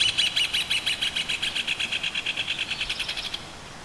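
Bird calls ring out in a video game demo, a rapid, regular series of bright chirps repeating about five or six times per second, loud and close, then stopping abruptly near the end.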